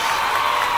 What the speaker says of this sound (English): Let's get a real applause in.